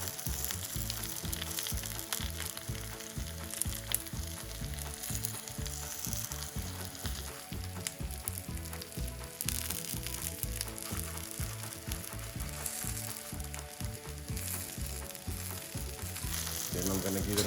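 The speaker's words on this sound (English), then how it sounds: "Then I'm going to give it another good stir. Just let it fry for a minute or two." Onions and three tablespoons of medium curry frying in a pan, a steady, dense sizzle running evenly throughout with no talking.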